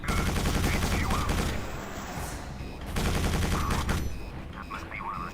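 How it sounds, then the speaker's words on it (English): A drop turret in the video game Quake 4 fires in a dense, rapid fusillade of loud shots that runs almost unbroken, pausing once briefly before the barrage resumes. "That must be one of those drop turrets."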